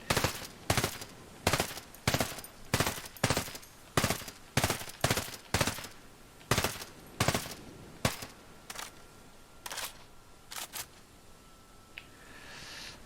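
An M4A1 Scout custom rifle in Ghost Recon Breakpoint fires a long string of loud, sharp single shots at a steady, fairly quick pace. The reports grow slightly softer and more spaced toward the end before a faint tone lingers.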